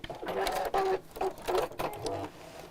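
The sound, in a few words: sewing machine stitching a seam on a box bag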